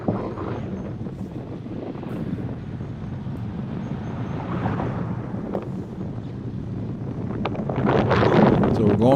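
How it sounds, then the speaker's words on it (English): Wind buffets the microphone during an outdoor group road bike ride on exposed terrain, a steady low roaring rumble that swells louder near the end, with no voices. "There seemed to be wind everywhere"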